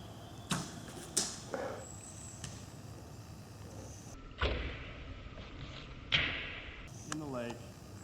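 An arrow shot outdoors near a lake lands with a few sharp thuds and a distant splash-like impact, spaced apart amid rustling and a man's speech.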